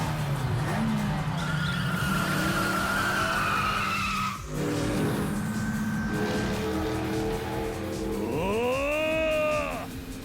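Tires squeal loudly during a street race in Yakuza 5, a near continuous skid over a roaring engine with a brief break midway, then a last rising screech before the end.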